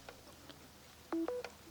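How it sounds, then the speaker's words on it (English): A Samsung Galaxy S23 Ultra 5G gives its charging alert as it is plugged into a charger: a faint pitched blip, then two quick brighter tones close together and a short final note, heard alone in a quiet room. "there is a sound while charging"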